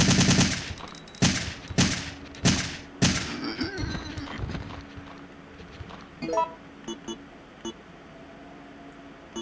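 An automatic rifle fires in a video game: a rapid burst of loud, punchy shots with distinct gaps, then a softer rattle of scattered clicks and small impacts as the firing tails off.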